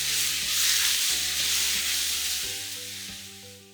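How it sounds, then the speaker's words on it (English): Pork pieces sizzling in a pan over high heat, a steady close frying hiss with a few stirring scrapes, no talk. "Fry the pork till it turns white"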